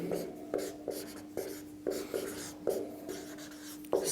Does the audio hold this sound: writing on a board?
yes